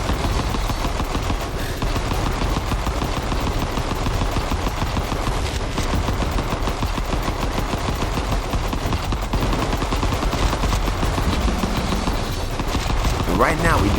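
Rapid gunfire from the video game Vital Shell rattles continuously in dense automatic bursts, loud and unbroken for the whole stretch, with sharp cracks stacked close together.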